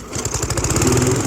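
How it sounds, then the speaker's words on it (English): A lawn mower engine starts in a comedy sketch, a short rough pull-start sputter catching into a steady, close, loud running drone for about a second, with no voices over it. "I think I'm going to start mowing the lawn."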